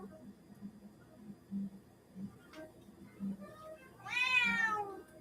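A cat meows and whines indoors, with a low repeated murmur of short cries, then one louder, drawn-out rising meow near the end over a faint hum.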